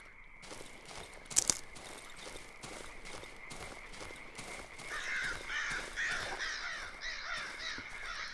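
Crows caw in the video game Darkwood, a faint, repeated harsh cawing over a steady rustling ambience and soft footsteps, with a brief louder clatter early on.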